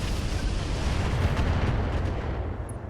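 A mech weapon firing in the video game RogueTech, a dense, continuous roar of booming fire that stays loud and steady throughout, with no talk over it.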